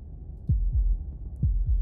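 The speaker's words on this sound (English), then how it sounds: "That was the sound of a heartbeat" Heartbeat in the video game Slay the Princess: four deep, thudding pulses in two lub-dub pairs, loud and close against a quiet low hum, no talking.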